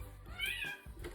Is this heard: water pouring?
no